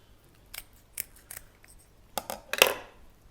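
Sharp kitchen scissors snip through the inside cavity of a raw Dover sole in several quick, crisp cuts, spaced irregularly and heard up close over a quiet room with no talking.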